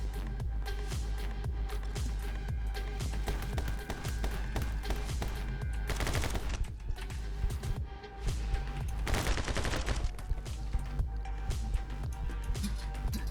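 Rapid bursts of handgun fire in the My Friend Pedro video game, dense overlapping shots over a busy game soundtrack, with heavier volleys clustered mid-way.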